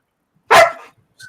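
One loud, close dog bark, sharp and brief, followed by a faint sound in near quiet.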